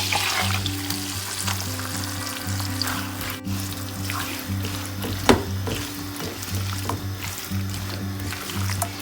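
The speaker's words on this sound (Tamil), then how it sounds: "பட்டர் சூடானோன்னே நம்ம வந்து சிக்கனை போட்டு இதில் வந்துட்டு ஃப்ரை பண்ணி எடுத்துடலாம்" Chicken pieces fry in hot butter in a single pot, a close, steady crackling sizzle with a faint low hum underneath and no talking.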